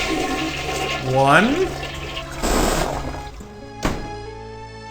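A video-game toilet flushes with a rising gurgle, a rushing swirl of water and a trailing drain sound, while a voice speaks briefly over it.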